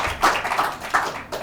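A small audience claps over a noisy hall, scattered hand claps rising into brief applause.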